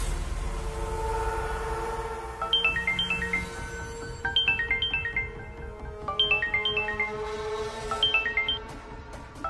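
A mobile phone rings with an incoming call in a home, its chiming ringtone repeating a descending melodic phrase about every two seconds over a steady low background hum, loud and near, with no one speaking.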